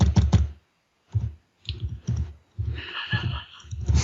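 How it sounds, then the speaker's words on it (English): Clicky typing on a computer keyboard during a podcast, close clusters of rapid key taps in short bursts separated by gaps. "Who's typing?"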